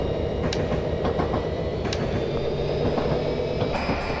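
F40PHL-2 diesel locomotive engine in Train Simulator Classic on Miami commuter rail: a steady, loud low engine drone holds throughout, with faint metallic clicks and a few sharp squeaks on top. No one talks.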